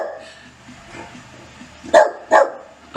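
A dog gives two sharp, close barks in quick succession after a stretch of quiet low background.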